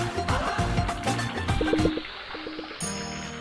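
Water from a leaking tap trickles and gurgles as a radio ad effect, fairly close, with irregular splashy bursts that fade partway and return near the end.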